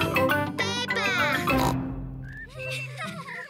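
Cartoon pig oinks from Peppa Pig ring out as several loud, nasal snorts, mixed with upbeat theme music and lively voices speaking over them.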